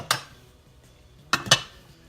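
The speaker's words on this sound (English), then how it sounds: "I have a lot of dishes to wash." Dishes and cutlery clinking while being washed in a home kitchen: one sharp clink, a quiet pause, then two more close together, bright and near with no talking.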